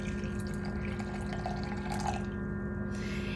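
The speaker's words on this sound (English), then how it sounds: "you're going to take about a cup of water and you're going to dump that into your yeast" Roughly a cup of warm water is poured into yeast in a home kitchen, a steady trickling and splashing of liquid that runs for a few seconds and then thins out near the end.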